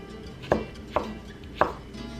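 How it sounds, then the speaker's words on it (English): Three crisp knife strokes through a peach on a cutting board, spaced unevenly a half second or so apart, close and fairly quiet with no talking. "And then I'm gonna take these and slice them even more."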